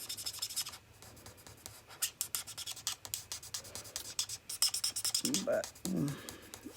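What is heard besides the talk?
drying-out Stampin' Up marker scratching while coloring on paper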